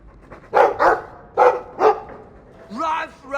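A dog in the Dragon Age 2 video game gives four sharp barks in two quick pairs, followed by a whiny, whimpering yelp.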